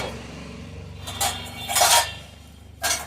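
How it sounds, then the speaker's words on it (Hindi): A knife stirring green chilli chutney, ground with chillies and spices, in a dish gives a few short metallic clinks and scrapes against the vessel, in scattered bursts over a low background hum. "वो चाकू चाकू घुमाओ इसमें"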